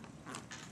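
A door swinging shut with a short, close creak of its hinges, brief and fairly faint, alone with no voices.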